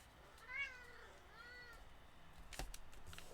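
A house cat meowing indoors, with two drawn-out, rising-and-falling meows close to the microphone, followed by faint rustling handling noise.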